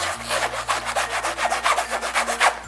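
The cover material of a Hobonichi journal rubbed back and forth by hand, making a close, rhythmic dry scratching swish repeated about a dozen times in steady strokes, with a low hum behind and no talk.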